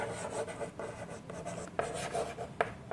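Chalk or marker writing on a classroom board during a Class VI English lesson, close scratchy strokes in quick bursts with short pauses, heard alone without talk.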